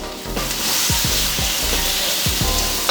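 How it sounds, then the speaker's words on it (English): Onions and carrots fry in a pan with garlic and ginger, a steady close sizzle with repeated stirring scrapes and soft clatters throughout, no talking. "Onions and carrots are going to go into the pan with your garlic and ginger"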